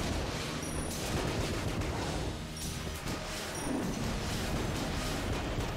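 Steady, dense gunfire from the twin-stick shooter Enter the Gungeon, a continuous loud barrage of rapid shots and impacts with game effects layered throughout, no voices.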